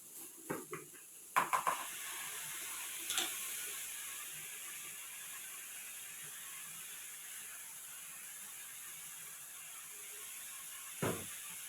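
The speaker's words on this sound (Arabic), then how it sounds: "وهقلب بقى كمية الرز اللي معايا اهو قبل ما احط المية" Washed rice is stirred in a hot pot with a few soft scraping and clinking knocks near the start and again near the end, over a faint steady sizzle and hiss, quiet and close.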